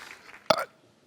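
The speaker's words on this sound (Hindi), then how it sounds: "हम कोल्ड ड्रिंक पिया था, डकार लेना भूल गए थे, अभी याद आया।" A short, abrupt burp after drinking a cold drink, a single sharp gulping belch in the middle of a brief quiet moment, close and fairly loud, followed by a faint onset of another sound.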